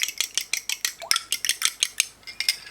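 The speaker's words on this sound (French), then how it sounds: "Alors maintenant on vient battre les œufs." Eggs being beaten into choux pastry dough in a bowl, a quick, steady run of sharp clacking and scraping strokes, close and fairly loud.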